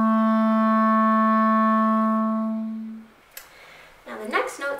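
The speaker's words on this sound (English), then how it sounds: "the first note in the B scale is of course going to be B" A single sustained clarinet B, clear and close, held steadily for about three seconds before fading out, followed by a short breath and some handling noise.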